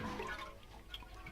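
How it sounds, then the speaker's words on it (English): Water spell watering plants in a Harry Potter video game, a soft steady rush of splashing, trickling water, fairly faint and continuous without any talk. "We're just gonna water some plants."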